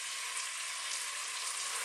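Leeks and garlic frying in a pan over just-below-medium heat, giving a dense, steady, close sizzle that holds level throughout with no voices.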